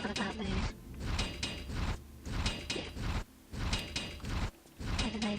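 Heavy stone doors in a Tomb Raider level grind and rumble open, several bursts of mechanical scraping and sliding separated by short pauses, loud and close with metallic gear-like texture.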